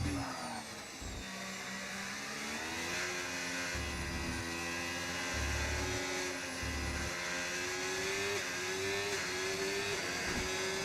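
Race car engine in a racing video game, a sustained loud drone with steady harmonic tone that climbs gradually in pitch through the gears, with no talk over it.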